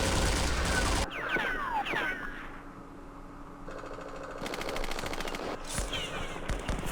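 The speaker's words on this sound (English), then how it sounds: "So these units are firing at max range" Units in the Campaign Series Middle East strategy game fire at max range, with bursts of rapid machine-gun fire and sharp gunshots that start and stop repeatedly, some near and loud, others thinner and more distant.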